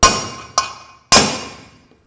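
Hammer blows drive a bearing out of a Harley-Davidson Iron Sportster right-hand engine case: three sharp metallic strikes, the middle one lighter, each ringing briefly and decaying before the next, close and clear.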